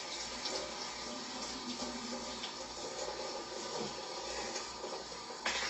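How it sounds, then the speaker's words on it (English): Tap water runs steadily into a sink while hair is washed, a continuous soft hiss and splash at low volume with small shifts in the flow and a brief clatter near the end. "Why am I washing my hair at the sink like that?"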